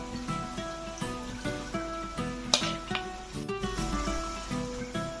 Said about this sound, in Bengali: সব ভাজা মশলাটাই কিন্তু দিয়ে দেব।